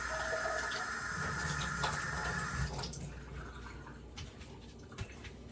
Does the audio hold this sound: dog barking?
no